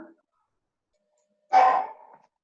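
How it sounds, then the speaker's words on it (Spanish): A small dog gives a single short bark at moderate distance, with a faint brief sound just before it and otherwise silence. "porque yo escucho perritos"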